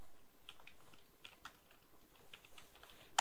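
Fingers type a search into the Chrome Web Store on a computer keyboard, quiet, irregular key clicks in short bursts, ending with one sharper keystroke.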